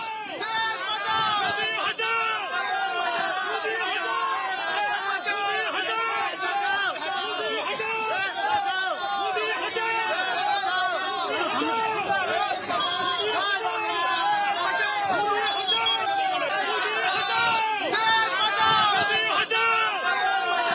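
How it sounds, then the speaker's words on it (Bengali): A crowd of Trinamool workers shouts go-back slogans at BJP candidate Tapas Roy on a Kolkata street during the 2024 Lok Sabha election, a dense, continuous roar of many voices. "তাপস রায়কে তৃণমূল কর্মীদের গো ব্যাক স্লোগান।"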